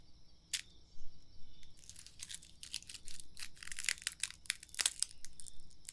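A fortune cookie cracked and crunched close up, with a run of sharp, crisp snaps and crinkly crunches in an irregular burst, loud and intimate against a quiet background, no talking.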